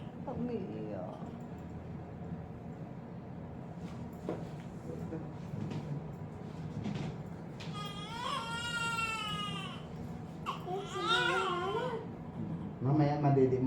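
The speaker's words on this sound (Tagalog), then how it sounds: "Umiiyak." A newborn baby cries in short, thin wailing bursts that grow louder toward the end, with adults talking quietly nearby in a calm indoor room.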